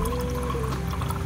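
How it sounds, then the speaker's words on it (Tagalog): Fresh water streams steadily from a public drinking fountain in Interlaken, Switzerland, a close, continuous splashing pour with no voices over it. "So ito, pag may nakita kayong ganito, kuha lang ng tubig, fresh yan. It's flowing water."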